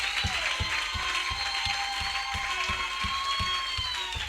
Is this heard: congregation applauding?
yes